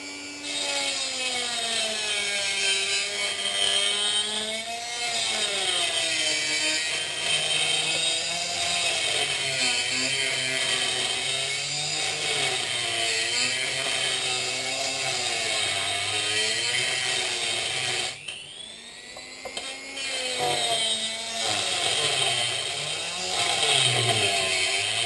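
A diamond power tool cuts a round shape into hammered glass, giving a steady whining, grinding tone that wavers in pitch as the cut goes on, with a brief drop partway through.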